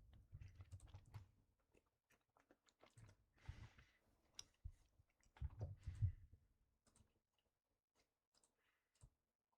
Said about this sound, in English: pardon the chewing